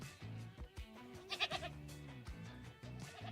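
Baby goat bleats from a Pet the Baby Goat simulator video game, several wavering cries in a row with short gaps, fairly close and clear over a steady background hum.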